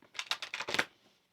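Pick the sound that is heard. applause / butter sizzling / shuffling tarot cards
shuffling tarot cards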